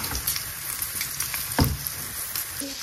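Fat renders and fries in a pan, giving a steady, close sizzle with scattered pops and crackles throughout, fairly loud and with no talking.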